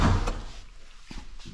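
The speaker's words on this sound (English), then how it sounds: "I'll show you under the bonnet, and let me just open that" The bonnet of a classic Jaguar XK 150 opens with a dull clunk of the latch, followed by a couple of softer metallic knocks, close and without talk.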